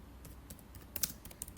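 Quiet, irregular keystrokes on a computer keyboard, soft taps with a few sharper clicks near the end, close and faint against a low background hum.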